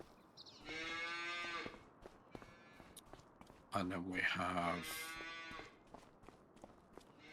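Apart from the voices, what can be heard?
cows mooing in a cow shed in a farming video game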